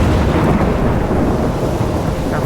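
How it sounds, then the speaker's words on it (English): A thunderstorm in the video game Life is Strange gives a continuous deep rumble of thunder over steady rain. It is loud and dense throughout, with no voices. "I'm trapped in a storm?"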